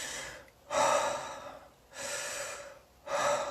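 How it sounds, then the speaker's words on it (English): Three deep, forceful breaths in the Wim Hof breathing exercise, each a loud rushing inhale and exhale at close range, evenly paced with brief pauses between them. "take a deep breath in and out"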